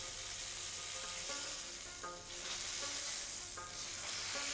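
Lamb chops sizzling and frying in a hot pan, a steady broadband crackle with occasional stirring clatter, close and continuous with no voices.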